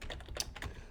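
Quick, irregular keystrokes on a computer keyboard as a search is typed into Google, a brief close burst of clicky taps with no voices.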